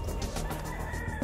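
A rooster that was fought in a cockfight this morning and is badly lacerated gives soft clucks up close during a raid in North Carolina, low and faint over a steady background.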